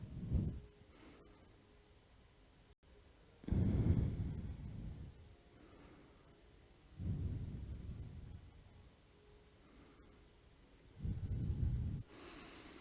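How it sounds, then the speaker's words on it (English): Slow, deep yoga breaths, four long exhalations spaced a few seconds apart, each a soft rushing swell that fades back to quiet stillness, heard close with no talking. "Breathe here. Notice your breath."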